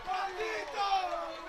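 A crowd at a high school varsity boys soccer game between Darien and Norwalk cheers and roars in a short swelling burst, several voices rising together after a goal.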